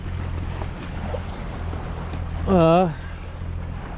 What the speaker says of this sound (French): Bon ben, on n'avançait plus, on s'est mis au moteur.